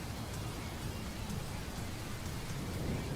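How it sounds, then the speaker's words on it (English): Heavy rain pours steadily outside in New York, a dense unbroken hiss of falling water close by with no pauses and no voices. "Weather in New York ain't all that great, man. It's pouring outside."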